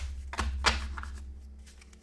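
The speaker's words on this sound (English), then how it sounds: "stick it on this group, shuffle that in" Wingspan board game cards shuffled together by hand, two quick riffling bursts close up over a low steady background hum.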